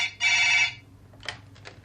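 An office telephone rings once in a short, bright electronic trill, followed by the faint clatter of the handset being picked up in a quiet room.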